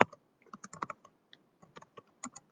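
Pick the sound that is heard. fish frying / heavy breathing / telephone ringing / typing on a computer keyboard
typing on a computer keyboard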